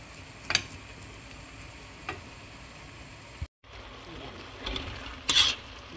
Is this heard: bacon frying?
yes